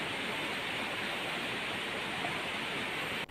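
Natural river water flowing at Sungai Kasih, a constant broad rushing wash, close and even throughout with no other sounds.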